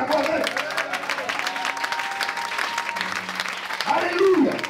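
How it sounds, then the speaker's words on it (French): Church congregation applauding together in a sustained, lively burst, with a voice speaking over the clapping throughout. "Il faut l'acclamer ce matin si tu es d'accord avec."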